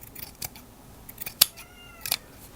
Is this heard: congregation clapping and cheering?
no